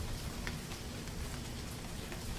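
Steady rain falls in a video game, a faint, even hiss of drops with a low rumble beneath and no voices.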